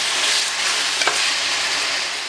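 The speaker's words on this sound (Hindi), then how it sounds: "अब इसमें आप ऐड कर देंगे 1 किलो चिकन और इसको यहाँ पर हाई फ्लेम पे थोड़ा फ्राई कर लें" A kilo of chicken frying over a high flame for a degi chicken chana pulao, a loud, dense, continuous sizzle close by with a brief clink of stirring partway through and no voices.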